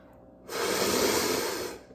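Heavy, drawn-out breathing, one long loud breath rising sharply and fading, close to the microphone with no talk over it.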